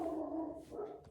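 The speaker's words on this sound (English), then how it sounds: "because the dog's gonna probably bark for the next 5 minutes" A dog gives a drawn-out, whining bark, a faint tonal cry that holds steady for about a second in a quiet indoor space, with no talking.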